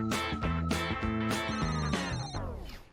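A telephone rings indoors with a bright, bell-like electronic tone, several rapid bursts repeating close by before the last one fades away.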